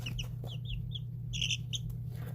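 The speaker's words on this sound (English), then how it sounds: "So all of these little chicks are now 20 days old." Twenty-day-old chicks in a brooder chirp in several short, high peeps, a brief cluster near the middle, over a steady low hum.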